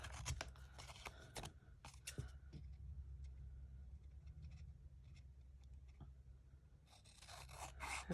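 Scissors snip through a paper craft tag with a few quick, crisp cuts and rustles at the start and end, faint and close over a low steady background hum.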